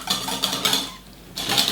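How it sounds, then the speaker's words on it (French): Metal whisk beating a parmesan mixture in a bowl for a pumpkin tart, rapid scraping clinks in bursts with a short pause midway, close and fairly loud, no talk. "Et ensuite tu vas fouetter le mélange"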